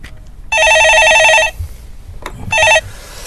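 A landline telephone rings twice on a Korean stock-market phone-in show, a steady electronic trill lasting about a second, a pause, then a shorter second burst, close and loud.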